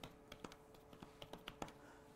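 Keys clack on a thin tablet keyboard cover, a quick irregular run of light, close taps with little travel, heard alone in a quiet room.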